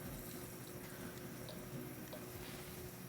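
A kitchen tap runs steadily in a sink during cooking prep, a constant close hiss of flowing water with no voices.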